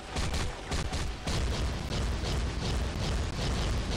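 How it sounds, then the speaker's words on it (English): Void Explosion skill going off in Marvel Future Fight, a loud, dense rumbling blast with rapid pulsing bursts layered over one another for several seconds, with no voices. "This is called Void Explosion."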